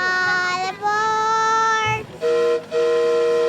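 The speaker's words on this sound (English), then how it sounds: "Train engines took center stage at this annual event at Griffith Park's Travel Town" Steam-style train whistle at Travel Town museum's Depot Day in Griffith Park, sounding loud and close in several sustained blasts with short breaks between them.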